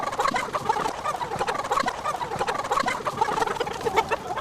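A flock of chickens in the open air, clucking and squawking continuously in a busy overlapping chorus, close and lively.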